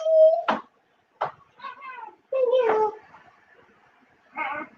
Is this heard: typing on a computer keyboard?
no